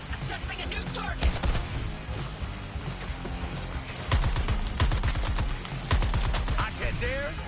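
Rapid gunfire in the video game Suicide Squad: Kill the Justice League: sharp bursts of automatic shots and single cracks over a busy battle mix, with voices talking at points.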